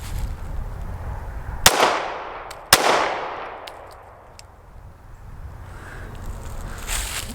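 Two sharp, loud pistol shots from a Springfield Hellcat Pro with a 3.7-inch barrel at a shooting range, about a second apart, each followed by a ringing outdoor decay and then quiet.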